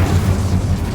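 The Incendio fire spell is cast in the video game Hogwarts Legacy, a deep booming whoosh that rolls on for about a second, loud and close.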